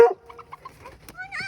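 A chicken on a pig-weighing farm lets out a few short clucks and a brief rising squawk, close and fairly quiet, with a person's voice briefly at the start.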